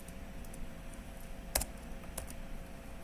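Several people type quietly on computer keyboards in a beginner Python class, with soft scattered key clicks over a steady room hum and one sharper clack standing out.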